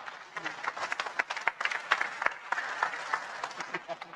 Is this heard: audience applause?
yes